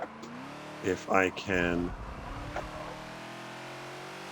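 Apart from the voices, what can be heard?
Ford Falcon XB engine revving and shifting, Forza video game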